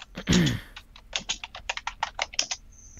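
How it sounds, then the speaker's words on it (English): Rapid, irregular clicking of computer keyboard keys, close by and fairly loud, with a brief burst of voice near the start. "I was typing"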